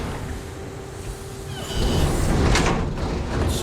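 In the video game Starfield, a squeaky door grinds and slides open with a rising metallic screech, followed by a louder hissing, rumbling mechanical whoosh as it moves, heard alone without talk.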